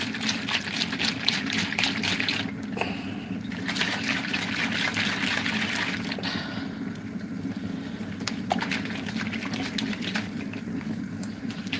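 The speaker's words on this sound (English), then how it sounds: "So I put water in it." Water trickles and splashes steadily into a food mixture that had set hard, a continuous close pouring sound with a low rumble underneath and a few clinks.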